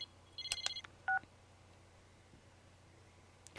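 Phone tones in Persona 4 Arena, a quick burst of beeping, dial-like tones followed by a single short electronic beep, quiet against a faint background hum, with a small click near the end.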